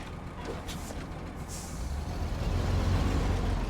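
Big truck in the SnowRunner game in Alaska, creeping through a tight space, a steady low diesel rumble that swells louder toward the end, with a brief hiss of air near the start.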